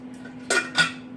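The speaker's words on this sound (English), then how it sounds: "So I hope you enjoyed watching me do dishes" Two brief clinks of thrifted old dishes being handled during washing, close and fairly loud over a steady low hum, with no talking.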